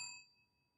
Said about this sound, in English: hit the bell icon as well so you can get the alerts that sound like this